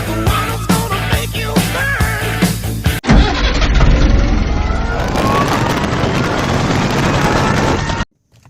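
A new BMW Z4 sports car starts up and its engine runs loudly and steadily close by for about five seconds, then cuts off abruptly, following a stretch of rhythmic music-like sound.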